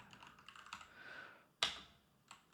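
A command typed on a computer keyboard in a terminal, with a few soft scattered keystrokes, then one sharp, louder key press and a final lighter tap, heard up close over a quiet background.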